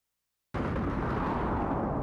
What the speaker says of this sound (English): the Emperor being a final boss, he of course is going to explode